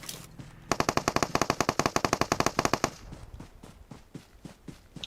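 Rapid machine-gun fire in BGMI on the Livik map, a dense burst of evenly spaced shots for about two seconds, followed by sparser, softer scattered shots.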